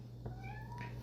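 A house cat gives a single drawn-out meow with a rising, wavering tone, close but fairly quiet over a steady low electrical hum, with no one talking.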